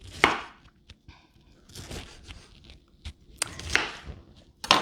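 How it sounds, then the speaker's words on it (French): Vegetables chopped with a knife on a board, close, irregular sharp crunchy strokes in short bursts with brief pauses between, no talking. "je vais juste couper mes légumes."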